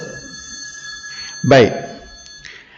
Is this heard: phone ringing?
yes